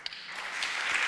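Conference audience applauding at a congress against Islamophobia: a short burst of dense clapping that builds quickly and stays steady, with no voices over it.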